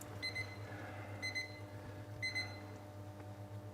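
A kitchen thermometer alarm beeps while candy syrup reaches 115 degrees, three short bursts of high repeated tones about a second apart over a low steady hum, fairly faint.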